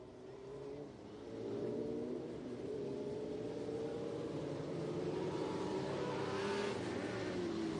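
USAC Western States midget race cars at Santa Maria Speedway rolling onto the track for a heat race, a droning engine note that swells and holds steady, moderately loud and continuous with no talk.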